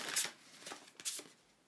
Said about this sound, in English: This deck's a little hard to shuffle.